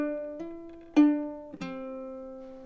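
A ukulele is plucked slowly, with a few single notes including the open C string, each ringing out and decaying, close and clear with no voices.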